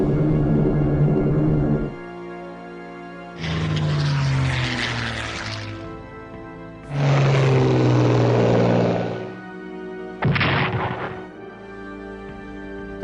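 Propeller-driven maritime bombers roar through an air strike on a carrier in the Pacific theatre of a WW2 strategy game, with three loud, droning engine bursts separated by brief quieter gaps and no talk.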